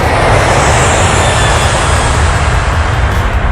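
Naval and Coast Guard surveillance aircraft flying along the western coast during the 1999 Indo-Pak war, a loud, steady engine drone filling the whole stretch with no voices.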